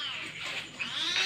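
A pet cat meows faintly a few times in short wavering calls, heard close but quiet, alone without talk.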